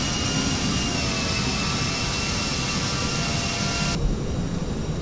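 CRJ900 jet engines roar steadily at climb power in a Prepar3D flight simulation, a loud, unbroken broadband rush with a faint high whine, the top end dropping away near the end.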